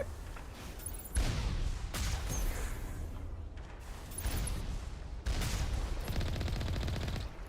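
Automated turrets in the game Mass Effect fire sustained bursts that are dense and loud, in several long stretches broken by brief gaps, with mechanical clatter mixed into the shooting.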